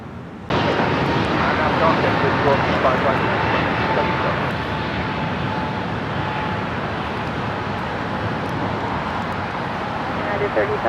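A large jet airliner at Los Angeles International Airport roars steadily and loudly for the whole stretch, with a sustained engine rumble and broadband rush and no talk over it.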